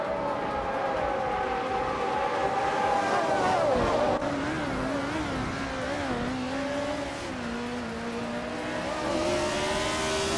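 A Fittipaldi FD03 racing car in a racing video game, its engine screaming steadily at high revs, pitch sliding down and climbing again through gear changes, loud and close throughout.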